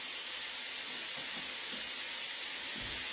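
Gyros marinade hits a hot cooking surface and sizzles with a steady, close hiss that holds evenly throughout, with no one talking.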